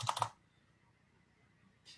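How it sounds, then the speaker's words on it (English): A brief burst of several quick computer keyboard keystrokes up close, followed by quiet and a single faint click near the end. "when I start typing the bug, you can see"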